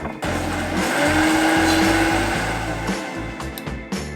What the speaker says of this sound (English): So now we just blend.